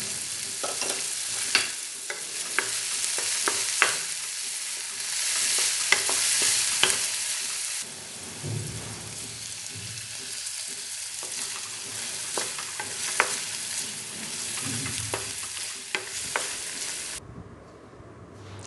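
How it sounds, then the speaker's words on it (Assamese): Vegetables with salt stir-fried in oil in a kadai, stirred steadily with a utensil for about seventeen seconds, giving a continuous close, loud sizzle broken by sharp scraping clinks. No voices, and the sizzle drops away near the end. "গোটেই চব্জিখিনি এনেকৈ দি নিমখ অকণৰ সৈতে অলপমান লৰাই দিলোঁ"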